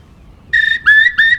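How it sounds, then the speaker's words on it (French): Eurasian curlew calling: three loud, clear, rising whistled notes in quick succession, close and alone after a brief near-silent start. "Le courlis cendré"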